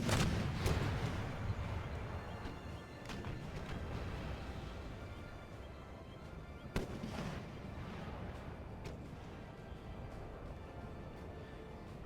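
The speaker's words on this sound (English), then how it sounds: "our artillery has set up, as you can see from that shot that just was taken" Artillery fires on a battlefield in the video game Empire Total War, with booms thudding over a dense, rumbling battle din. One sharper report stands out midway, and the rest of the shots fade into steady background noise.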